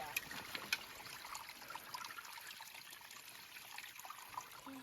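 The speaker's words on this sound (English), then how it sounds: "Now we are filtering the water" Water trickles steadily through a Sawyer Squeeze filter outdoors on an Appalachian Trail backpacking trip, a soft continuous dribble with faint hiss, a few light clicks and quiet background voices now and then.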